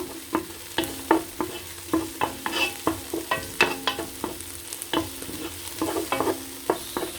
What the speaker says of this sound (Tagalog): Just mix it all together.